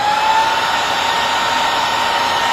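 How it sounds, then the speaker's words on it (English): An industrial ball-bearing brushless cooling fan rated at 65 CFM runs at full speed, giving a loud, steady, even rush of air with a faint tonal whine. "this is an industrial brushless fan. Okay, it's ball bearing brushless and designed for industrial use."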